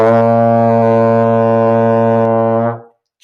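A single sustained low trombone B flat in first position, steady and full, held for almost three seconds before cutting off into silence.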